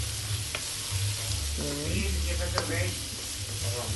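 Garlic frying in oil in a pan while being stirred, a steady close sizzle with scraping and clinking of the spoon, a voice speaking briefly over it.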